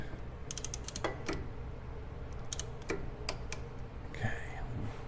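Ratchet clicking as a wrench tightens brake caliper anchor bolts on a Mercury Marauder Panther-chassis car, several short bursts of close metallic ticks spread over a few seconds against a steady background hum.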